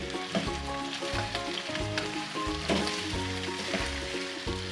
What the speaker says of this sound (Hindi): 1 से 2 मिनट हम अदरक लहसुन के साथ चिकन को फ्राई करेंगे।